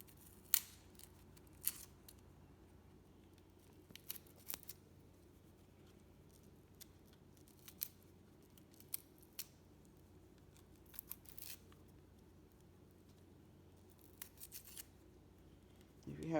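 A kitchen knife slices potatoes held in the hand for morning potatoes, making sparse, crisp, faint cuts at irregular intervals over a quiet room.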